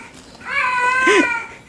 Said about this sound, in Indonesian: Sekarang dimeriahkan lagi dengan kucing ya.